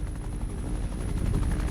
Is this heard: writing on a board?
no